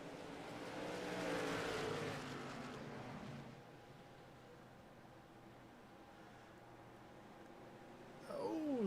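Race cars in a sim racing game roar past on the front stretch of a short oval, a loud engine swell building and fading, then a lower steady drone, with a fresh close whine rising at the end.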